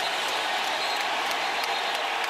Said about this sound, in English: you hear the crowd reacting